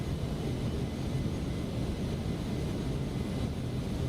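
In the X-Plane 12 flight simulator, a Cessna Citation C750 engine gives a steady, broadband jet roar that stays constant and fairly loud throughout, with no talk.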